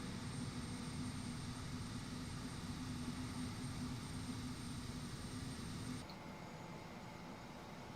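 Twin turboprop engines of a King Air B200 in Microsoft Flight Simulator 2024 drone in a steady, loud hum with a constant tonal whine, shifting to a slightly lower, quieter drone near the end.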